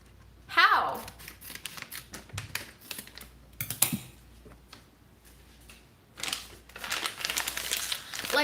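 Plastic packaging being wrestled and torn at, with crinkling, rustling bursts and sharp crackles scattered in uneven clusters, loudest near the start and again toward the end, under intermittent talking.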